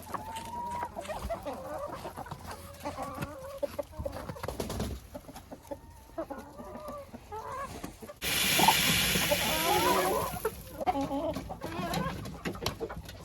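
Flock of hens clucking steadily while pecking at sunflower seeds in a poultry yard, overlapping soft calls near and far, with a louder rustling burst partway through.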